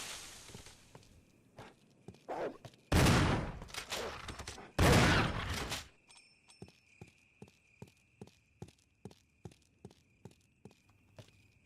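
Video game gunfire: a few light shots and clicks, then two loud, sustained bursts of shooting, followed by a long run of evenly spaced footstep-like thuds over a faint steady hum.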